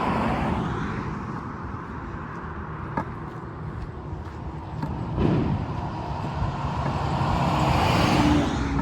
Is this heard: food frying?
no